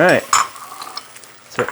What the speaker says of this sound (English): so eggs are on and cooking